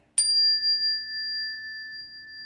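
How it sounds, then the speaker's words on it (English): A steady pure tone rings out alone after a brief soft onset, holding evenly at a clear pitch with a higher overtone throughout. "and the key of C sounds like this."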